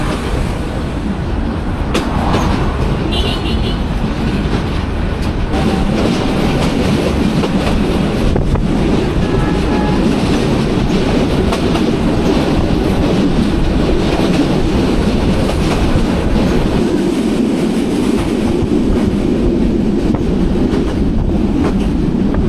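Interior of the Ramna local train in Bangladesh running on rails, a steady loud rumble and rattle of the carriage with rhythmic wheel clatter and wind buffeting throughout, no voices.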